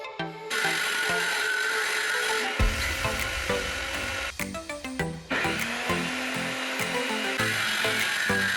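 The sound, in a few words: homemade table saw cutting MDF pieces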